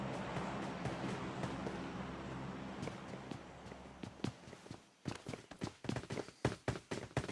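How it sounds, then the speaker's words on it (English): Footsteps in an online shooter match, a run of sharp, evenly spaced steps growing louder and clearer in the latter half after a steady engine-like drone fades out. "Oh, he hears the footsteps."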